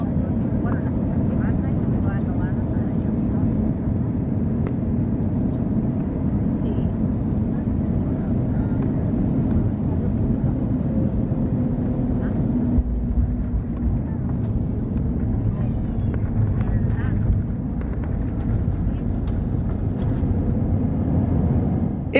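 A Sky Airline Airbus A320neo lands at La Serena airport in Chile, heard from inside the cabin as a constant roar with deep rumble and a shift in tone partway through, while muffled talk rises and falls.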